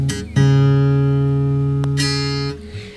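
A single guitar string, just pre-stretched at the 12th fret, plucked once and left ringing with a steady, sustained tone, close and clear, followed by a brief extra touch near the end.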